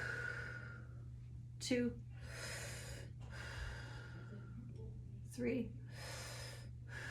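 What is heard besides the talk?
breathing in and out through the mouth during exercise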